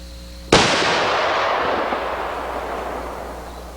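A single loud .340 rifle shot with a sharp muzzle blast, fired outdoors at a distant target, followed by a long rolling echo that slowly fades.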